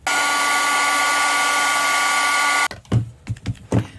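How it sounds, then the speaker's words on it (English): A heat tool blowing on paper for a handmade card, a loud steady whirring blast close by for over two seconds, then switched off and followed by a few soft handling knocks and taps. "I'm going to get my heat tool out and get it dry."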